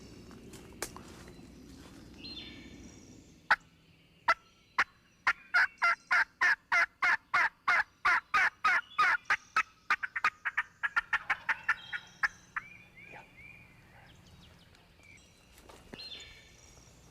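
A wild turkey gobbles in a field during turkey season, with a long run of sharp, evenly spaced rapid clicks or taps in the middle, distant bird calls and faint rustling around them; no talking.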